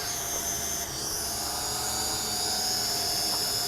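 An FX-8G Master GPS camera drone comes in to land, its propellers giving a steady, close, high-pitched whine that holds constant throughout with no talking.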